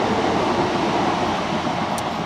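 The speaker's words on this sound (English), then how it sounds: "Well, actually it was the train" A train passes close to an allotment garden, its broad steady roar of wheels and carriages rumbling evenly and loudly throughout without a break.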